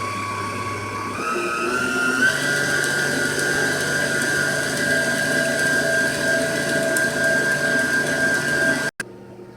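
An electric mixer whirs steadily as it beats Betty Crocker cake batter, its motor whine stepping up in pitch as it speeds up, then stops sharply near the end.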